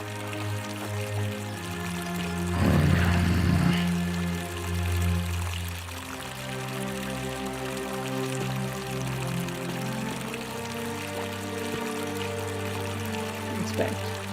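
Water flowing in The Forgotten City video game, a rushing pour that swells briefly early on, then settles into a steady stream beneath sustained musical tones.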